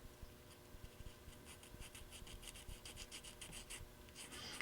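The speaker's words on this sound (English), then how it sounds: "you're going to want to take a small file" Small file rubbing along the edges of cut model railroad kit pieces, soft quick rasping strokes in an uneven rhythm, close and faint with no talking.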